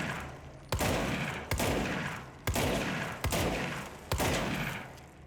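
A special gun fired in the video game Control: five loud, evenly spaced shots, each a sharp crack followed by a long decaying roar, alone without talk.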